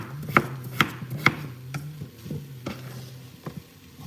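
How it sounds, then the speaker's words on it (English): Potatoes being chopped on a cutting board for mashed potatoes, with several sharp knife strikes at an irregular rhythm, the first three louder and close, over a low steady kitchen hum and faint sizzling. "Chopping up some potatoes for the mashed taters."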